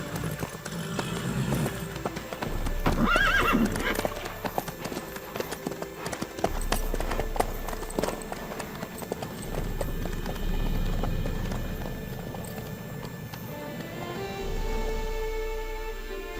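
A horse's hooves clip-clop steadily in The Witcher 3, a continuous trotting rhythm at moderate loudness with game ambience and brief character voices mixed in.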